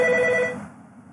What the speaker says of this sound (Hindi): सॉरी गाइस, फोन आ गया